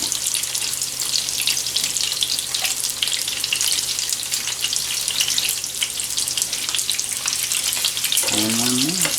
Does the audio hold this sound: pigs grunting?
no